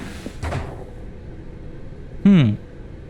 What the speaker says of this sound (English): Stanley walked through the red door.